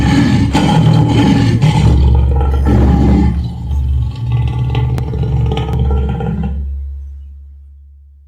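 A powerful lion roar, already loud at the start, rolls on with a deep throaty rumble and rough growling texture before tapering off into a long, fading tail.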